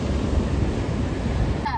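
Ocean waves roll onto a beach during a family outing, a steady close roar mixed with wind buffeting the microphone.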